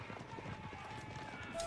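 Horse hooves clip-clopping in a real-time strategy game during a competitive tournament semifinal match, a steady rapid patter of running horses as spearmen attack them, with battle noise layered beneath.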